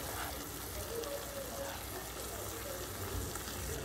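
A tomato and onion mixture with kasuri methi cooking in a pan, a steady soft sizzle and crackle that stays low and continuous throughout, with no talk.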